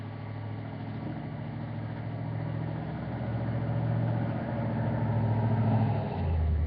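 Car driving on the road, a steady engine hum with a low droning rumble that swells gradually as it accelerates, heard from inside with no talking.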